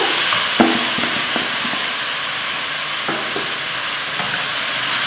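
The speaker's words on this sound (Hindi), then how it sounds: "ये अच्छी तरह भूनेंगे इसको। माशाल्लाह देखिए हमारा अच्छी तरह ये कीमा भून गया है।" Minced keema and chopped cabbage fry in a pan with a steady loud sizzle, broken by several sharp scraping clacks of a stirring spoon against the cookware.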